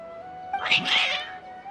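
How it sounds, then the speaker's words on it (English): Agitated cats in Genshin Impact let out one strained, wailing meow that rises and falls, up close and loud, over a faint steady background tone. "Your cats seem pretty worked up."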